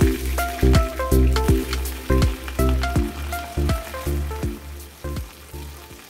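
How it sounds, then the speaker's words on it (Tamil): Steamed brinjal frying in oil in a pan: a steady, close crackling sizzle, with regular stirring scrapes and clacks from a utensil recurring about every half second. "அதுக்கு தான் இப்போது சட்டியில் வச்சு வறுக்க போகிறோம்"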